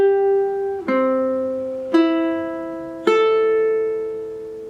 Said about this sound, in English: If you have a high G string,